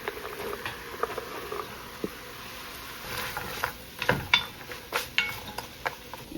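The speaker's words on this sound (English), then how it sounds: "I'll just add all these veggies in to cook with it" Chopped vegetables tumbling into a pan of browned ground meat, soft patter and light sizzle followed by scattered utensil scrapes and clinks against the cookware, close and moderately quiet with no talking.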